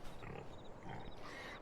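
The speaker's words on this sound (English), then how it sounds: "we're going to take a look and see how the pigs are doing" Pigs grunting in a pen in a farming video game, soft low oinks and snorts overlapping in a steady, close stream, fairly quiet.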